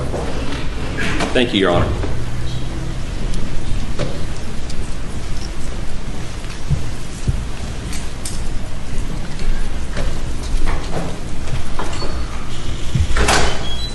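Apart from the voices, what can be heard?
courtroom door being opened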